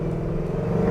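A 1949 Ford F1 pickup with a swapped Coyote V8 engine and manual transmission roars steadily under acceleration, a loud, close, continuous engine drone.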